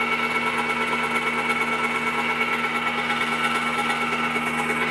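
A PTO generator driven by a John Deere 1025R tractor runs under electrical load, giving a steady, dense mechanical drone with a constant whine. It holds level and unbroken throughout, with no talk.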